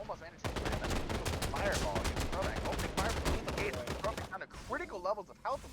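Rapid gunfire bursts in the mobile battle royale game Final Fantasy VII: The First Soldier, loud and dense for most of the stretch with overlapping shots, easing near the end as a voice talks over the action.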